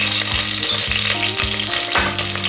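Cashews and raisins frying with half-cooked onions in oil for a pressure cooker egg biryani make a loud, close crackling sizzle, broken by a regular scraping rhythm about every half second, with no talking.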